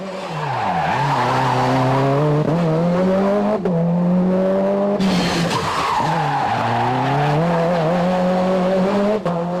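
A Citroën Xsara WRC rally car, tested in 1999, drives hard with a loud, close engine note that rises and falls through gear changes, with tyre squeal and skidding throughout and no talk.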